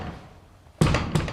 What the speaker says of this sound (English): knocks, like really loud knocks